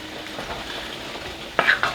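Sausage and onions sizzle in a pot of witch's cauldron chili with a soft, steady crackle, and near the end a spoon scrapes and clinks against the pot in two quick strokes, close up with no talking.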